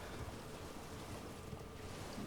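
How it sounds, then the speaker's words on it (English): A waterfall in the video game Elden Ring roars as a steady, broad wash of rushing water, quiet and distant-sounding, with no speech. "waterfall"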